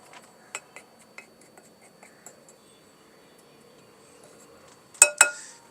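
A spoon presses biscuits into a dish for a banana trifle dessert, making a series of faint, scattered clinks and taps, then ending in two sharper, louder clinks close up, with no voices.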